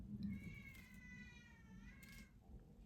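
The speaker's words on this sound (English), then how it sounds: "there's the cat" A cat meows in a drawn-out, wavering call lasting a couple of seconds, heard fairly clearly over a low background rumble.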